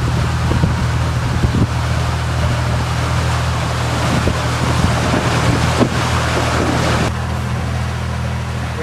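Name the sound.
Dutch sailing barge with German flag passing on canal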